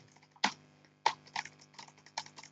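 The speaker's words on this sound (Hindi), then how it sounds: "अपने कीबोर्ड से टैब की दबा देंगे" Keys clicking on a computer keyboard during paragraph formatting in MS Word 2016: two sharp, close taps a little over half a second apart, followed by several lighter clicks in an uneven rhythm, with no talking.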